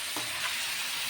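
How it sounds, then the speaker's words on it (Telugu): Chicken frying in a pan for nawabi chicken kurma, giving a steady close sizzle and hiss throughout, with no talking. "వేసేసి కొద్దిసేపు ఫ్రై చేయాలి"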